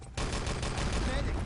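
Rapid gunfire from an Enemy Territory match, a dense burst of shots starting abruptly and continuing loud and unbroken, close by, with faint voices mixed underneath.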